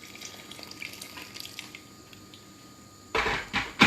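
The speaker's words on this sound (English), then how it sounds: "I'm going to add a little bit more water" Water poured into a pot of thick tarka daal, a faint drippy trickle at first, then a louder burst of splashing pours near the end.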